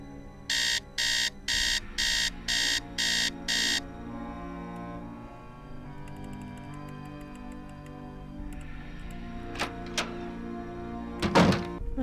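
In the Message in a Haunted Mansion video game, an alarm clock set to noon sounds six evenly spaced electronic beeps. Faint ticking and soft thunks follow, then a brief clatter.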